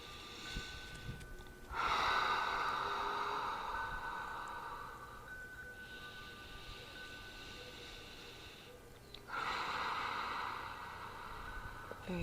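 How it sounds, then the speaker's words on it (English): Deep breaths taken in a forearm yoga pose, slow long inhales and exhales in a quiet room, two or three drawn-out breaths with pauses between them. "I'm going to take a couple deep breaths here."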